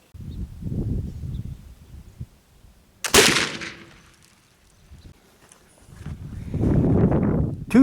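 One sharp gunshot from a rifle loaded with homemade cherry-wood black powder rings out at an outdoor shooting range, standing alone between stretches of low background rumble and faint distant sounds.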